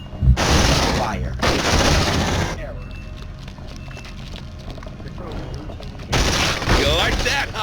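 Gunfire in the PC video game Aliens: Dark Descent: two loud sustained bursts of weapon fire up front, a quieter rumbling stretch of combat noise in between, then another heavy burst at the end.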